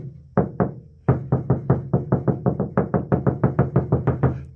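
Repeated knocking on a 1955 Chevy truck body panel lined with Noico RED 315 mil sound deadener: about twenty firm, fairly dull thumps in a quick, slightly uneven rhythm, close and loud, with no talking.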